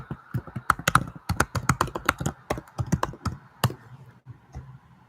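Fast, irregular keystrokes on a computer keyboard as an email address is typed, a close, dry run of clicks with brief pauses, no talking.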